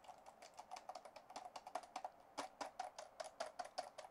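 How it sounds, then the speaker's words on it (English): Fingers type on a computer keyboard, a quick run of crisp clicky keystrokes in an uneven rhythm, fairly faint and close to the mic, with no voices. "So go ahead and play around with the keyboard"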